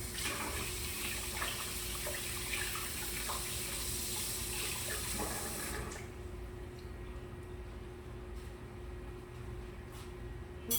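Tap water runs steadily into a kitchen sink as a spoon is rinsed, a continuous close splashing hiss that cuts off partway through, leaving quiet room tone with a few small drips and clicks.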